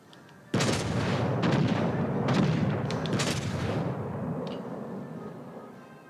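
Naval guns fire in the video game World of Warships: Legends, a sudden loud salvo of booming shots that rolls into several overlapping blasts and a long fading rumble.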